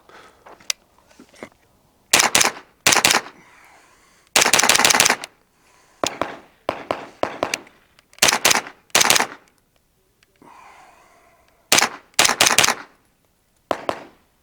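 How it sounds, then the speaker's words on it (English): A Springfield Kuna pistol-calibre carbine fired with its brace in rapid outdoor bursts, sharp cracking shots in quick clusters of two to four with brief gaps between, loud and close. "I'm currently shooting with the brace. So there's 30 rounds."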